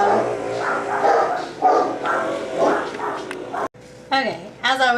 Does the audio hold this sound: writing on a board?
no